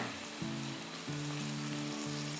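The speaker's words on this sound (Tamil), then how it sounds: "இதில் வெங்காயம் சேர்க்குறேன்" Onions added to hot oil in a pan for a mixed vegetable sambar give a steady, close sizzle and frying hiss that continues throughout, with low humming tones underneath and no talking.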